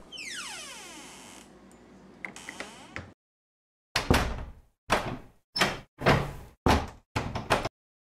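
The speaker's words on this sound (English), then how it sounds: "I just want a door sound." Door sound effects from a free game art pack: a long creaking, sweeping door movement first, then a rapid series of six punchy slams and thuds with short gaps between them. Close and loud, with no speech.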